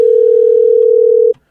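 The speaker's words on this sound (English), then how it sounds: "Let's just call him up on the phone and see if we can get him going on there." A telephone dial tone plays as a single steady, clean hum for over a second before abruptly cutting off, leaving silence.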